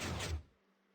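Short burst of a Minecraft Bedrock 2x2 hidden piston door (Jeb door) closing, a quick sliding thud with a whoosh that stops abruptly and leaves near silence.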